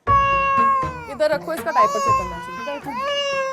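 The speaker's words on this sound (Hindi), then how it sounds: "आप देखेंगे ये बच्चा रो रहा है" An infant cries in high, wavering wails that need a diaper change, close and loud, while adults talk over the crying throughout.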